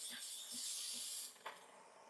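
Milk being steamed with the steam wand of a Breville Barista Pro espresso machine, a loud, bright hiss with soft low pulses beneath, cutting off after about a second and a half and leaving a brief click and quieter residual noise.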